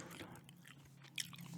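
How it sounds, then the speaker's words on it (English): Gum is chewed close to the mic, with soft wet smacks and small crunchy bites in an irregular rhythm, quiet and without talk. "Doing another gum chewing"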